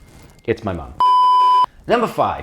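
A mobile phone rings with a steady, loud electronic tone lasting just over half a second, set between stretches of close speech.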